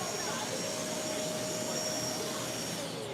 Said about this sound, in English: this is going to allow you to turn the vacuum on and off from the end of the vacuum hose